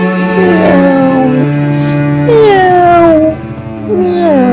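A voice imitates a cat, singing drawn-out, sliding meows over sustained musical tones, loud and close, several meows in a row.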